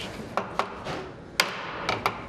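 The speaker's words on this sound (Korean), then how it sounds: "연결 부분을 끼우고 아귀가 맞도록 망치로 두드리고 다시 길이를 재는 일이 반복된다." A hammer taps wooden joint pieces into place while fitting hanok door frames during an apartment interior remodel, giving several sharp, sparse knocks over a soft background hiss.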